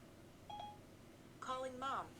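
Phone placing a voice-activated call to Mom: a short tone near the start, then a brighter burst of dialing tones and beeps toward the end, faint and close, over a low steady hum with no speech.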